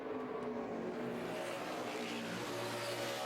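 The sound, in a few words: NASCAR Sprint Cup backup race car on track at Watkins Glen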